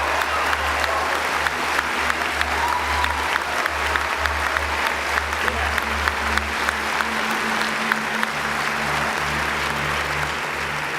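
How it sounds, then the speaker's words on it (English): Graduation audience applause in a large hall, sustained loud crowd clapping that stays steady throughout with no voices standing out. "give yourself a round of applause"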